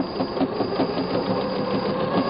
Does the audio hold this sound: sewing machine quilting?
yes